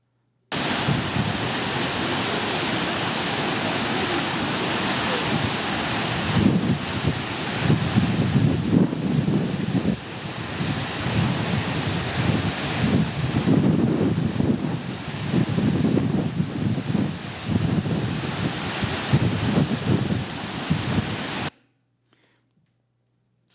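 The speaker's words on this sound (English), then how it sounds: "I'm standing in front of this waterfall, and I want you to watch it for a few seconds" A waterfall roars as a loud, steady broadband rush that runs unbroken for about twenty seconds, close and alone with no voices, then cuts off abruptly.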